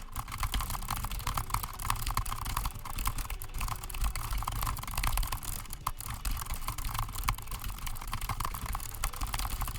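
Continuous rapid typing on a low-profile keyboard with custom switches, dense overlapping key clacks over steady background noise, with no pauses.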